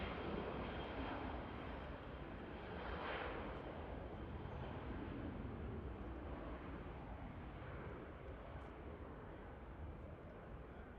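A Pegasus Airbus A321neo jet arriving at Manchester Airport, its engines a loud, steady roar that holds strong for the whole stretch, with no voices over it.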